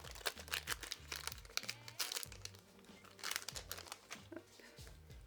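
Trading card booster pack wrappers being torn and crinkled open, crisp plastic rustling and tearing in repeated bursts at close range, with a person talking intermittently underneath.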